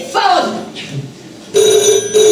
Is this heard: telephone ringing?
yes